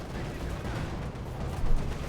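Dense, continuous gunfire and battle noise from Company of Heroes 2, a Wehrmacht versus Soviet match, with overlapping shots and blasts forming a steady roar and no clear gaps.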